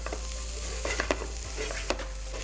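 Beans with coriander powder and turmeric stirred in a hot pan, a soft steady sizzle with a few scraping strokes of the spoon, close and fairly quiet.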